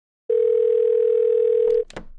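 Steady telephone dial tone on a call to Sony offices, loud and continuous for about a second and a half before it cuts off into brief clicks and faint noise.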